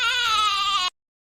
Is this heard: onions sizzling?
no